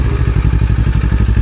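A trail motorcycle engine gets a small blip of throttle, close and loud, with a rapid, even, thumping pulse and a rattling clatter and no talking.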